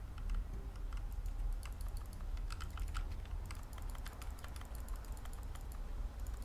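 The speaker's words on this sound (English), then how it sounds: "What is that clicking though?" Rapid keyboard clicking from an office computer in The Stanley Parable Ultra Deluxe, a steady, dense patter of light keystrokes running continuously over a low room hum, with no voices.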